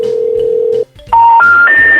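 A steady landline dial tone hums for under a second as a call is placed, then cuts out, followed by three loud, rising electronic tones stepping up one after another.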